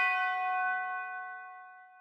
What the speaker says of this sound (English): got the tubular bell preset, and then I just put one note on the key of the scale that we're working in